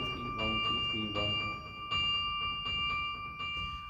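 Carillon bells ring in a fast rhythmical tremolo, bright repeated strikes with long overlapping resonance and periodic heavier accents on the biggest bell, played alone with no talk.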